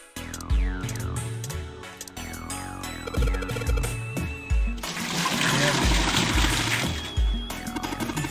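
Water gushes and trickles into a toilet tank in the Zero Escape video game, with repeated plunking, metallic clicks and dripping tones, then a long louder rush of flowing water near the end.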